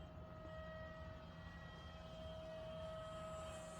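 Small model airplane in flight overhead, its motor giving a steady, even buzzing drone that holds at constant loudness throughout, moderately distant, with no talking.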